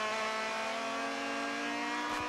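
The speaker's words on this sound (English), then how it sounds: "Big downshift." A Continental Tire Challenge race car at Circuit of the Americas makes a big downshift. A loud, sustained high engine whine holds steady, then shifts abruptly near the end.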